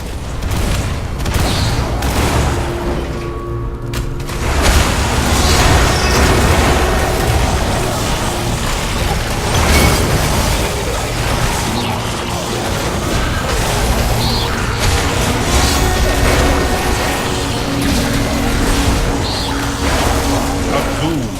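Explosions and crashing impacts as a rampart is destroyed in the strategy video game War for the Overworld, a dense, continuous barrage of booms and bursts, loud throughout, with an announcer voice at times.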